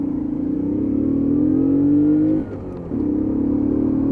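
A Lexmoto Aspire 50cc geared motorbike accelerates hard, its small engine buzzing and rising in pitch, dropping briefly at a gear change, then pulling again at full throttle, loud and close with no talk.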